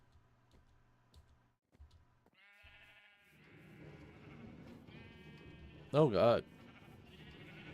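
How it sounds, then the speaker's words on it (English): Sheep on a farm in a blocky sandbox game bleat in a short, fairly loud burst near the end, while players chat quietly over faint ticking and ambient game sound. "Sheep farm over here."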